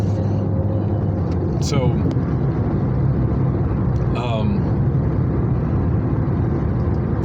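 A car on the road during a sunny morning commute hums steadily at the loud, constant level of an in-cabin drive, with a voice coming in briefly over the drone.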